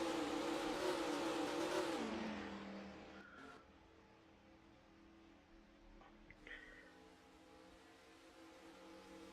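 Video game race cars roar off the green flag at the start of the Tiburon 500 at Orlando International Speedway. The loud, rising engine whine fades into the distance, leaving a quieter rumble and a brief tire squeal.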